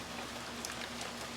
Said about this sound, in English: I didn't realize it was going to rain so suddenly